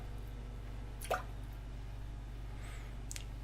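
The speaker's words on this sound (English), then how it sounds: "Drip drop." A few isolated water drips over a low steady hum, two faint separate plops about two seconds apart in an otherwise quiet space.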